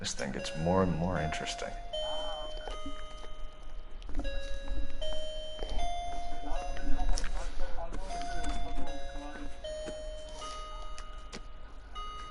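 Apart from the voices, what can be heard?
clock chiming in the background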